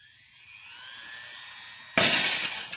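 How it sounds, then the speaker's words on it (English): Glass shatters in a radio drama effect: a thin whine builds under near silence, then a sudden loud crash of breaking glass bursts in and rings on with bright tinkling debris for nearly a second. "The glass was shattered."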